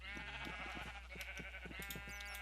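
Sheep bleating in a crowded Minecraft pen, a steady chorus of overlapping bleats under continuous background hum.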